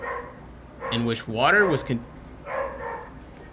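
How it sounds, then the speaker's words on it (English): Dogs bark close by in a few short bursts, a yelping run in the middle, while a person talks over and between the barks. "Dogs are the worst."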